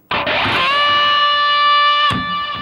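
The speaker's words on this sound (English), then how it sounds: "So here we're going to bend a full step from the 8th fret on the high E string" A single electric guitar note is bent a full step at the 8th fret of the high E string and held, loud and solo, with a fresh pick attack near the end.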